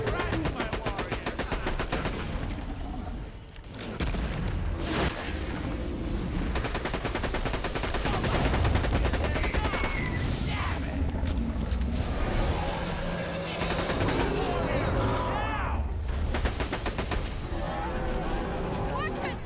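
Repeated rifle and automatic gunfire from a sniper rifle in the video game Borderlands 2, with loud cracks and bursts overlapping continuously, while a voice talks over the shooting.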